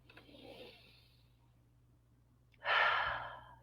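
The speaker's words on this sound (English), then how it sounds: "I like to begin my conversations with you with a deep breath of life" A person takes a slow, deep breath, a soft inhale followed after a pause by a louder, airy exhale, heard up close in a quiet room.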